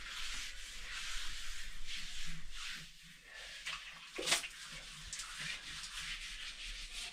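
Scrubbing at soap scum on bathroom shower walls, a steady close rubbing and brushing with a brief sharper scrape partway through, alone with no talk.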